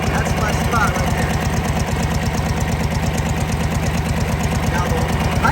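Knucklehead motorcycle engine idling rough and uneven, a close, loud, steady loping thump with knocking pulses that sag as it starts to slow down.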